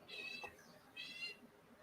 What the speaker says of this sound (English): That thing that's squeaking really loudly in the background. Is it your cat?